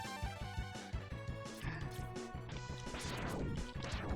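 An explosion in Mega Man X blasts out glass, a loud crashing smash layered over the game's driving chiptune music and rhythmic effects, dense and continuous throughout.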